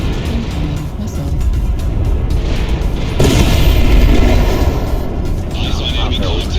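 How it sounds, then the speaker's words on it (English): Missile explosions boom amid steady battlefield rumble in MechWarrior Online, with a heavier blast surging near the midpoint and continuing loud, broadband roar afterward. "incoming missile."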